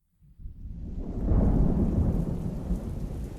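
Thunder rumbles in from silence and swells into a deep, loud roll over steady rain falling on surfaces, with the storm sustained through the end and no voices.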